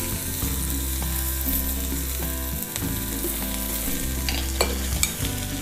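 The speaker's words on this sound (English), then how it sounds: "So we're going to cook some onion. So into the fry pan or the wok." Onion fries in a wok with a continuous loud sizzle, stirred throughout, with occasional scraping and clinks from the utensil.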